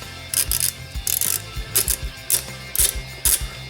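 A ratchet clicks in short bursts as a hose clamp is slowly tightened on a Mishimoto throttle body hose, with about eight crisp, close clicking runs separated by brief pauses.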